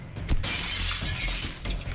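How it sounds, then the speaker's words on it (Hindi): A glass pane shatters with a sharp crack, then bright, loud crashing and tinkling of breaking glass carries on for nearly two seconds, with no talk. "ये कांच तो चकनाचूर हो गया"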